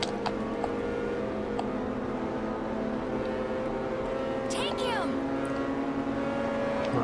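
Race cars roar continuously in Ridge Racer 7, a steady loud engine drone with shifting pitch and a brief swooping whoosh midway, with no pauses throughout.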